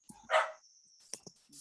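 A pet dog gives one quick, close bark during an online board of directors meeting, followed by faint, small scuffling sounds against a quiet background with a thin steady tone.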